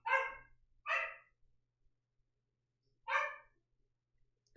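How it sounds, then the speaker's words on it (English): A dog named Juno barks three times indoors, two quick loud barks close together and then a third after a pause, with quiet between. "I just took her out, but she's barking."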